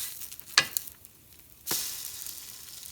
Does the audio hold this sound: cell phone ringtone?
no